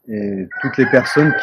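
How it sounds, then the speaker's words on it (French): A rooster crows loudly and close by, one long drawn-out call. A person speaking French overlaps the second half of the crow at a live-streamed Sunday church service. "C'est le coq qui chante"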